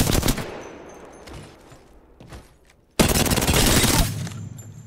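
Bursts of rapid automatic gunfire from the 99 gun in a video game, fired with no attachments: a loud opening burst, a short lull with scattered shots, then a second sustained volley lasting over a second.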